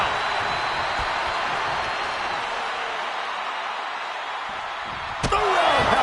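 A single sharp roundhouse-kick impact from the WWE 2K25 wrestling game lands near the end, cutting through a loud, steady arena crowd roar.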